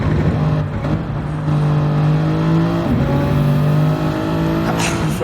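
A Toyota Supra and a McLaren race on the Nordschleife in Gran Turismo 7, with loud sustained engine drones that rise and shift through gear changes and a brief tire squeal, while commentary runs over the racing.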